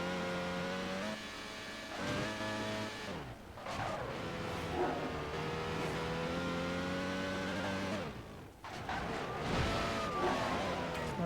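Racing bike engines whine in a racing video game, a close, tonal revving that climbs and drops through gear changes, with brief dips between surges and no voices.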